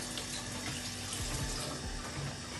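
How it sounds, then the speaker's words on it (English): Hands are washed under a running kitchen tap, a steady close splashing rush of water with small shifts as the hands move through the stream, and no talking. "let me wash my hands"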